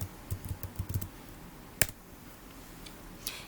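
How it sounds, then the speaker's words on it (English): A web address typed on a computer keyboard, a quick run of close, crisp key clicks for about a second, then a single sharp keystroke and a faint later tap in a quiet room. "type the URL virtualwritingtutor.com into the address bar and hit enter"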